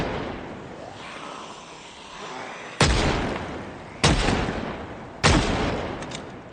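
Three loud, sharp gunshots crack out at roughly one-second intervals in Project Zomboid, each ringing off with a short decaying tail over a rumbling background.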